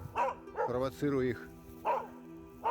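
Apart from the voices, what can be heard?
hunting dogs barking at a capercaillie hen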